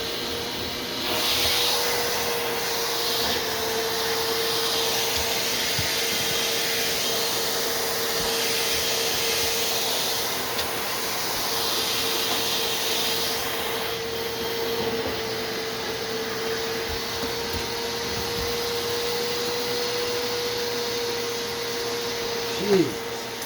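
A remanufactured Bissell Little Green ProHeat carpet and upholstery deep cleaner runs steadily with a loud, continuous motor whine and airy suction hiss, holding level throughout with a brief bump near the end.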